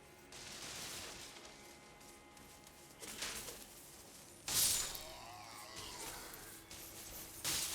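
Big bombs burst in the video game Elden Ring: Shadow of the Erdtree, giving several bursts of crackling explosions. The loudest blast is followed by ringing, shattering debris over a low game background.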